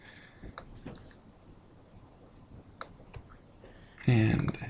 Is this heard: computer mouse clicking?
yes